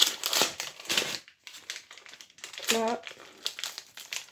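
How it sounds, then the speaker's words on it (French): Birthday presents being unwrapped, with wrapping paper crinkling and rustling in close, busy bursts and a short tearing rip, while a young voice talks over it. "J'aime trop ouvrir les cadeaux."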